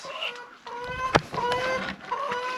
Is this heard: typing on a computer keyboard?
no